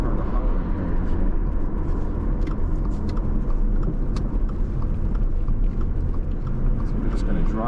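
Steady car engine and road noise inside a vehicle driving slowly through a new housing development in Eden Hills, Lake Alfred, Florida, a continuous even rumble with no break.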